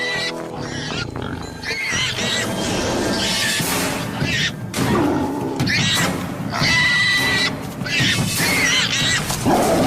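A dragon mimics the distressed cries of injured prey to lure a tiger, producing loud, wavering, animal-like wails and roars that rise and shift in pitch in repeated bursts.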